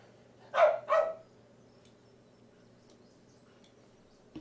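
A pet dog on a golf course gives two quick barks in succession, moderately close, followed by quiet outdoor ambience with faint insect chirps.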